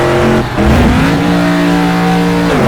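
A SuperTruck racing truck in the Automobilista sim holds second gear, its engine revving loud and steady with rising harmonic tones, a brief dip near the start before climbing again, no voices over it.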